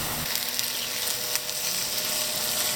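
Eggs and cooked vegetables fry together in a pan, a dense, close, continuous sizzle with small crackling pops scattered throughout and no talking.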